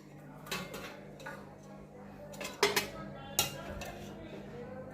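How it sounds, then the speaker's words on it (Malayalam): Dishes and cutlery clink while rice is served alongside a Kerala home meal of egg fry, bean thoran, moru curry, brinjal fry and pappadam, with a few sharp clinks standing out over soft scraping and low background noise. "ഞങ്ങൾക്ക് ചോറ് വിളമ്പാണ്."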